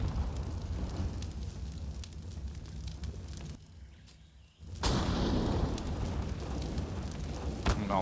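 A Molotov fire roaring in the video game Counter-Strike on the map Ancient, a steady broadband crackling whoosh that dips briefly into near silence and then surges back louder, with faint game noises around it.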